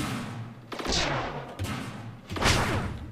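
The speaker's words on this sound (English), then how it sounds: "here's my ship firing off his pulse beams" A spaceship in the space strategy game Stardrive firing pulse beams: repeated sharp energy bursts with sweeping zaps, dense and loud over continuous battle noise.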